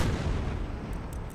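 Artillery cannon fire in a strategy video game battle between Mexican Empire and Republican rebel forces, a dense, continuous rumble of booming shots and low blasts filling the short stretch without pauses.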